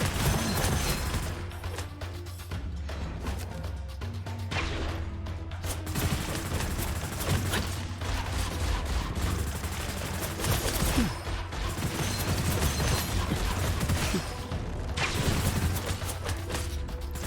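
Weapon fire in the video game Gunfire Reborn, long stretches of rapid, loud automatic shooting mixed with impacts and crashes, pausing briefly before starting again.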